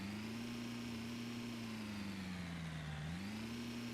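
A pickup truck engine in Snow Plowing Simulator hums at a steady mid pitch, dips briefly and climbs back as the vehicle drives, quiet and continuous with no voices.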